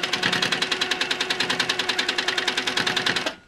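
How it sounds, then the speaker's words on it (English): A sit-down long arm quilting machine stitching, a fast steady mechanical chatter of even needle strokes, close and loud, running without pause before stopping abruptly. "right next to the foot of my sit-down long arm machine"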